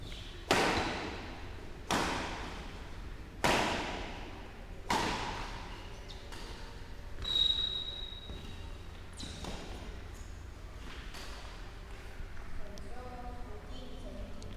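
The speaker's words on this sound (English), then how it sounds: "That was a decent rally." A ball rally in a racket sport match: sharp, ringing ball strikes echo around an enclosed court at a steady pace, the early hits loudest and later ones softer and quicker, with faint background noise between.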